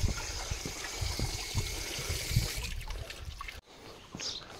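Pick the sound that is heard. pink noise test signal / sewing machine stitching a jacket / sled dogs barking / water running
water running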